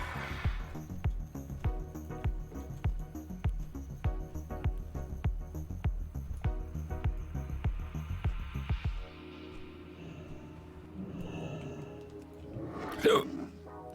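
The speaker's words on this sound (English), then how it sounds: "A little bit of hiccups." A single hiccup from a streamer playing World of Warcraft, a short sharp catch heard near the end, after a steady rhythmic run of game music and clicking sounds, with no other voice around it.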